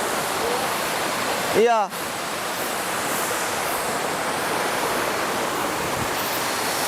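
River water rushing upstream near the headwaters in a hidden forest, a steady broadband roar that runs throughout, with one brief voice cutting in early.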